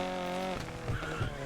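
Game car in NFS Unbound, steady engine drone that drops off midway, followed by rougher lower rumbling and a couple of short thumps, close and alone.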